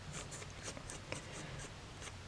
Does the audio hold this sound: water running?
no